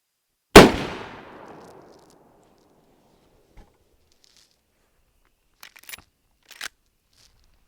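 A single sharp, loud rifle report from a Winchester Model 94 lever-action in .30-30 cracks out and rings down over about a second, followed by a few faint mechanical clicks and handling noises.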